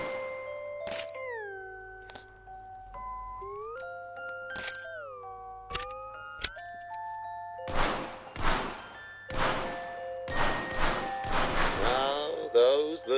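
Video game target shooting: a series of sharp shots and thunks, some with ringing pinged tones and others as bursts of noisy clatter, rising in density toward the end over a steady low hum, with no talking.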